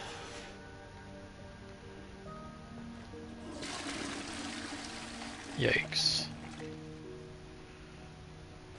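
Running water in a room of Hogwarts castle in Hogwarts Legacy, a steady rushing pour that grows fuller midway and comes with a couple of louder splashy gushes, all under background music and a brief spoken reaction.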